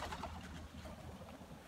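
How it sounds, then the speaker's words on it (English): Pigeons coo softly outside a house, their low murmuring calls faint beneath a steady wash of wind and outdoor background noise. "I guess they're my pigeons"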